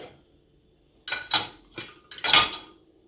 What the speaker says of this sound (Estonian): Need 2 potti võib siin vabalt ära pesta ja panna siia ette veel nõusid.